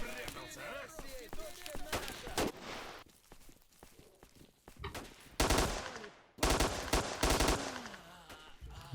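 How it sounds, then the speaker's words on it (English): Gunfire in the video game S.T.A.L.K.E.R. Shadow of Chernobyl, sharp single shots early, then dense automatic bursts of rapid loud cracks later, with footsteps and someone talking in between. "I'm surprised this gun's still firing"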